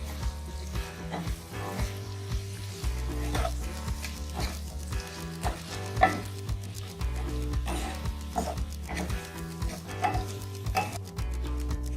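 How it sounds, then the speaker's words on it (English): Spices are stirred into potatoes and broad beans in a pan on a medium-low flame, with rhythmic scraping and soft clanks of the spoon over a low sizzle, repeating steadily for the whole stretch. "two teaspoons of coriander powder, stir it well."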